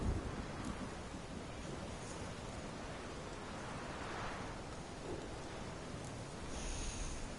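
A storm with steady heavy rain in a video game, a constant broad hiss that stays fairly quiet throughout, with no voices.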